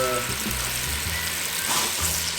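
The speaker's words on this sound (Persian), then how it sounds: "یه مقدار آب میریزم کف این دیگ، روغن میریزم توش" Water and oil poured into the bottom of a cooking pot for tahdig while making lubia polo: a steady, soft splashing hiss that runs continuously for a couple of seconds, moderately close.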